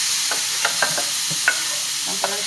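Diced mango tipped into a hot pan, giving scattered soft thuds and light sizzling clicks as the pieces land and begin to fry.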